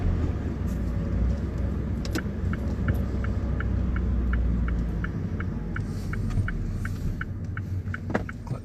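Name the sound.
car pulling away in first gear during driving lesson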